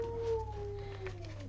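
Dogs howl at a moderate distance, one drawn-out wavering howl that slowly falls in pitch over a second or two. No clear barks and no talk.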